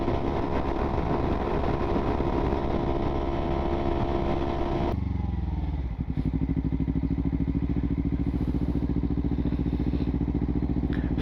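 A 2015 Kawasaki Ninja 300 cruises on the highway in sixth gear with a loud, steady engine drone and wind roar, then eases off and settles into a lower, even, pulsing engine note.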